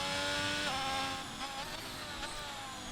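An F1 car in a racing video game pulls out of the pits at Belgium, its engine whine steady and loud with layered harmonics, a brief shift partway through, alone without talk.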